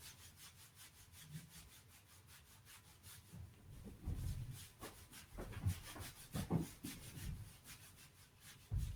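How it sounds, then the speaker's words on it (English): Hands rubbing over the sacrum and sacroiliac joint during a shiatsu massage session, producing steady close-up friction strokes that swell and fade in a repeated back-and-forth rhythm, with no talking. "I'm just going to rub that until we get it nice and warm."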